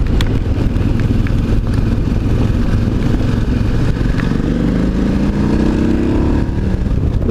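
A motorcycle engine running loud and continuous, with a steady rumble and a pitch that rises toward the end as it accelerates in damp weather; no talk.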